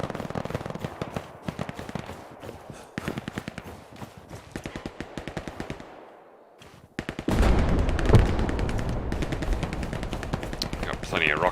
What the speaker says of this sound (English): Got plenty of rockets there firing